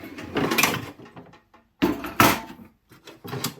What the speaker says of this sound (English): This is now a shelf for my camp stove. Let's pull her out.